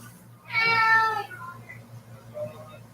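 A house cat lets out one loud, drawn-out meow close by, followed by quieter murmuring and faint background sounds over a steady low hum.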